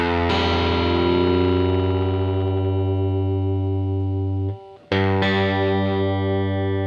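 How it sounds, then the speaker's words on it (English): A sustained, heavily distorted electric guitar note on the A string slowly sinks in pitch as it is tuned down to G, cuts out briefly, then a fresh pluck rings steady at the new lower pitch. No voices. "let's tune this A string down to G"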